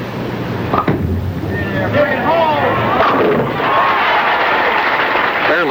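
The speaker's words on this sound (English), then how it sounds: "he still came through with a booming strike" Bowling ball crashing into pins for a booming strike at a 1970s professional tournament, a broad rumbling impact under steady crowd noise and commentary.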